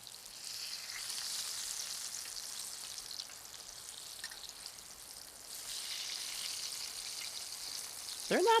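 Cheeseburger patties and onions sizzle steadily in a pan, a constant close frying hiss that swells near the end as the patties are flipped.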